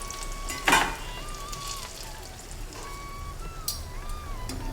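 Banana flower vada frying in hot oil, a steady soft sizzle throughout with a brief louder burst of crackling near the start, alone without any voices.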